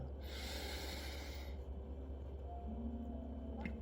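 One slow, deep breath drawn in through the nose, close and breathy, lasting about a second and a half before fading into a quiet room hum.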